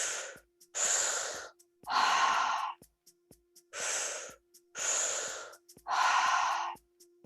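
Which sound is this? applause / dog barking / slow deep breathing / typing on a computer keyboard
slow deep breathing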